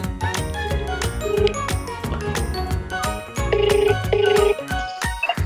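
A phone rings during a call to a friend, playing a bright melodic ringtone of repeating chiming notes over a steady musical backing, loud and continuous for several seconds.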